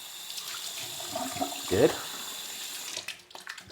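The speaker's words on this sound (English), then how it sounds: "And this rinsing will be done in my extra clean sink." Running tap water splashes into a sink as parts of an iNAP sleep therapy device are rinsed, a steady moderate stream with a brief louder gush and a short spoken word over it.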